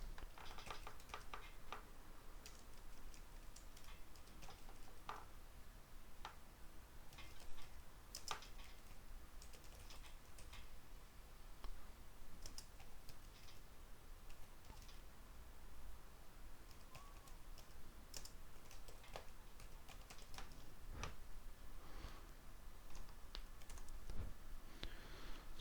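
Keys tapped on a computer keyboard while a command is entered, a steady patter of quiet clicks running throughout at low level.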